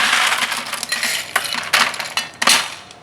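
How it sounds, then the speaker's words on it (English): Ice cubes tumble into a drinking glass while a Drunken Monkey cocktail is mixed, a burst of bright clinks and clatter, with a few separate louder rattles as more cubes drop in. "We're gonna fill it up with ice."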